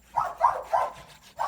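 Maggie the dog barks four times outdoors, moderately near and fairly soft, in an uneven rhythm with short gaps.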